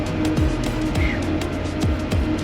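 Outboard boat engine on a fishing boat in the Bahamas revving up and down as it is shifted in and out of gear, a loud continuous motor drone with rising and falling pitch sweeps.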